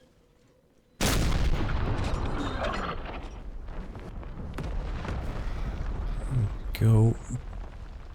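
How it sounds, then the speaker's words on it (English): Artillery battery firing in Empire: Total War, a sudden heavy boom that opens a long rumbling decay, followed by scattered crackles and later thuds, with a brief spoken word partway through. "Shot flying overhead. This other battery's still not quite in position."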